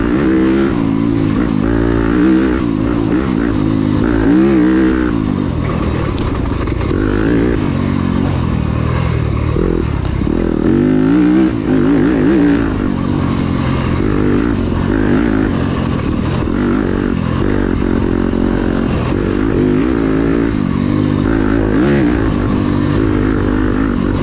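Enduro dirt bike tearing through a high-speed section of a sprint enduro course near Butler, Alabama, its engine loud and close, revving and shifting continuously with rising and falling pitch throughout.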